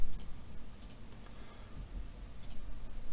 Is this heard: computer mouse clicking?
yes